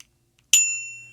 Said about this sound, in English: this is just kind of a standard bike bell. It dings